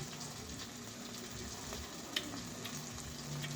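Sardine burger steak frying in a pan, giving a steady, quiet sizzle with soft crackles and one small pop.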